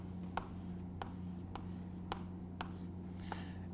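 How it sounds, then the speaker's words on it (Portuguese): Chalk or marker strokes on a classroom board during a geometry lesson, about seven short, evenly spaced taps and scrapes over a steady electrical hum, fairly faint with no speech. "Vou escrever isso"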